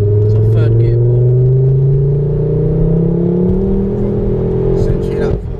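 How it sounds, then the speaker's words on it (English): A turbocharged car pulls hard through the gears, engine note climbing steadily in pitch as it revs up, loud and close from inside the cabin, with a brief shift-like drop near the end. "Since you hit that 4K, you feel that turbo kick."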